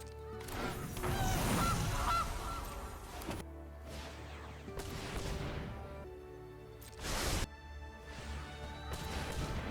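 Goose honks and a crunchy impact from the Gilded Goose card in the video game MTG Arena. Several loud squawking honks layer over game effects and a sharp smash, busy and close, with no talking.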